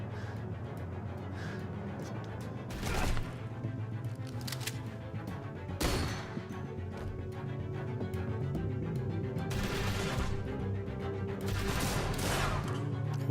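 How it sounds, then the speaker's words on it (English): Gunfire in The Walking Dead: A New Frontier video game, several sharp shots and short volleys spaced apart over a low ambient game soundscape, fairly distant and unaccompanied by speech. "Who are you shooting at?"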